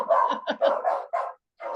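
A dog barks in a quick burst of several sharp, fairly loud yaps close by, ending with a short pause and one more bark.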